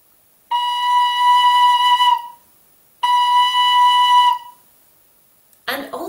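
A tin whistle plays the note B, fingered with just one finger, in two clear sustained tones each lasting under two seconds with a pause between, followed by a brief bit of talking at the end.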